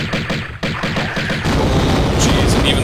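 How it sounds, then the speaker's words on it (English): A series of heavy booms and blasts erupts in the Tomb Raider game, level Obelisk of Khamoon. Deep rumbling thuds come in quick succession, then settle into a dense, loud roar. "even the explosion hurts you a little bit"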